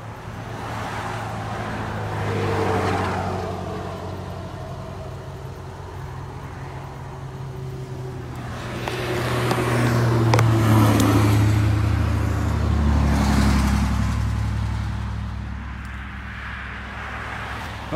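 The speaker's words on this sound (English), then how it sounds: "Oh, here comes a bunch of trailers" A bunch of trailers and vehicles drive past on a roadway, with several swelling engine and tire rumbles rising and fading one after another, a heavier low drone peaking near the middle, and no talking.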